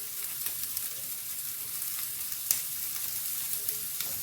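Ground spices, including turmeric and chili powder, fry on low heat in a pan for poha as a ladle keeps stirring, a steady soft sizzle with faint scraping clicks and no voices.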